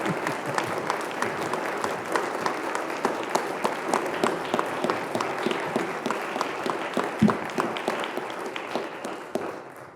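An audience bursts into sustained applause at a Black History Month event, dense clapping that holds steady for about ten seconds before tapering at the end.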